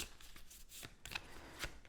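A deck of cards for the Star Trek: Captain's Chair board game is shuffled by hand, making quiet riffling bursts and soft slaps in an uneven rhythm, close but faint, with no voices.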